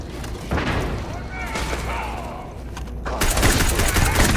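Repeated grenade blasts and gunfire in the Starfield video game, loud booming bursts spread across the clip, with a sharper broadband burst near the end, mixed under a person talking.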